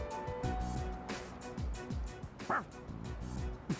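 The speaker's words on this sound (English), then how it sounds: "Your dog doesn't seem to like your answer." A dog in the Persona 3 Reload video game makes short, soft yips and whimpers over a steady game music bed, several brief cries spaced across the moment.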